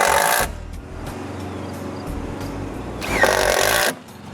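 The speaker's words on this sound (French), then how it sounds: "je peux commencer à visser les tuiles" Screw gun driving screws through metal roof tiles during workshop roof construction, two loud bursts of high whirring at the start and near the end, with a steady rattling motor hum between them.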